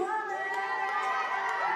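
A crowd at a New Zealand national diving championship cheers and shouts as athletes are introduced, a loud, sustained mass of voices.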